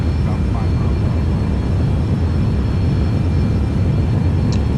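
Boeing 737-800 jet engines at takeoff thrust in the X-Plane 10 flight simulator, a loud, steady broadband roar that holds continuously with no talk.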